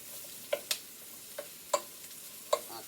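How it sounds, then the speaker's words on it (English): Onions and mushrooms cooking in a pan, with a soft continuous sizzle under a handful of sharp, separate clicks and taps of a utensil against the pan. "Cooking the onion down a little bit, you guys."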